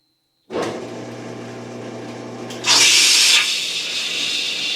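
Wazer Pro abrasive waterjet cutter starting a cut on 1/8 inch material with sand abrasive, a steady loud hiss and hum that jumps to a sharper, louder spray near the start of the cut, then settles into continuous cutting noise.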